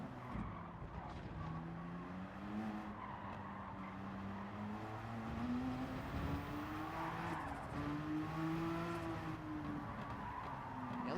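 Race car engine in Gran Turismo 7 wavering and surging as the car nearly spins out under braking, with a continuous mid-loud drone, pitch sliding up and down, and some tire scrub throughout.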